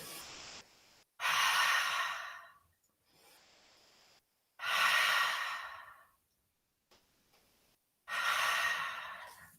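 Deep, audible breathing while a yoga pose is held, three long forceful sighing exhales separated by quieter inhales in near silence, close to the listener.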